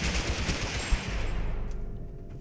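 Rapid gunfire rattles in a dense burst from an unseen weapon in the video game TABG, fading to quieter crackles and distant pops toward the end.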